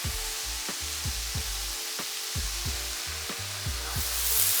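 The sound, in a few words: beef pieces searing in a hot pan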